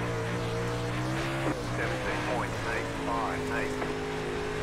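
Dirt late model race car engine on a Volusia Speedway dirt oval in iRacing, a steady droning engine note with revs rising and falling and sliding tire sounds, under a voice speaking briefly.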